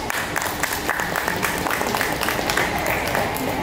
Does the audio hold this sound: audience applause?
yes